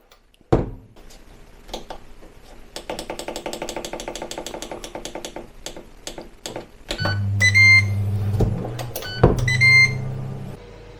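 An air fryer being set for 3 minutes at 160 degrees: a thud, a run of clicking button presses, then the fan hum starts with a few clear electronic beeps over it.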